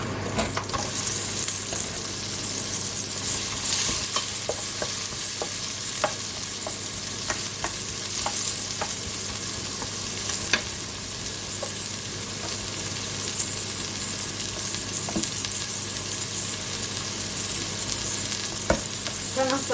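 Onions sizzling steadily in a hot pan for a potée aux légumes, a continuous loud fry with scattered pops and occasional stirring scrapes, no voices.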